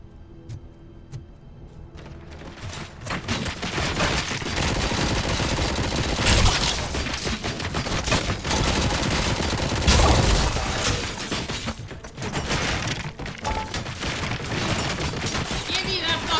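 Sustained automatic gunfire in the video game RoboCop: Rogue City, dense rapid bursts and heavy impacts filling the scene, loud and chaotic, with brief pauses between volleys.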